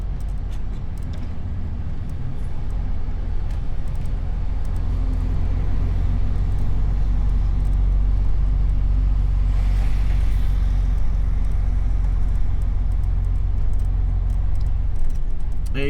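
A truck reverses a trailer in a yard, its engine a steady, loud low rumble throughout with occasional faint clinks and a brief hiss near the middle.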